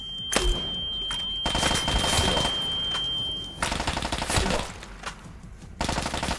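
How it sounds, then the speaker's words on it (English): Turret gunfire in Fallout D.U.S.T., a hardcore survival mod, comes in dense rapid bursts of loud automatic fire with short breaks between volleys, plus a steady high electronic whine during the first half. "That's a turret behind me."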